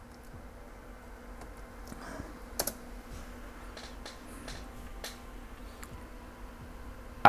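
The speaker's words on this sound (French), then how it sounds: "Je finis de taper le mot de passe" Keys tapped on an HP Compaq Presario CQ57-301SF laptop keyboard while a password is entered, a few scattered soft clicks with a small cluster near the middle, faint and close against a low steady hum.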